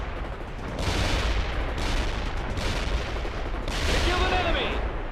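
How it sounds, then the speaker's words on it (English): Gunfire and artillery blasts from the real-time strategy game World in Conflict, airborne troops engaging a target in an insurgent mission; dense, sustained rolling bursts of shots and booms fill the whole stretch with steady loud intensity. "Fire at the target!"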